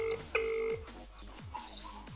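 A telephone is dialled to call the speaker's sister: a few short keypad tones and a held tone, then faint ringing and rustling close by, with a little background speech.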